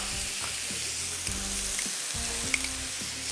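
Chopped onion and ginger garlic paste sizzling in a hot pan, a continuous bright crackling fry with faint stirring clinks and low background hum, no talking.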